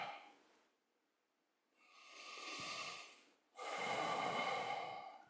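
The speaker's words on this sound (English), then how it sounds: "Take a deep breath" A deep breath taken during a guided meditation, with a short exhale, a pause, then a long audible inhale and a slow breathy exhale, close and quiet, with no speech.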